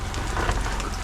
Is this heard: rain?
yes